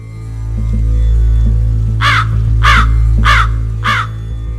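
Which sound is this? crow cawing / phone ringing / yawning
crow cawing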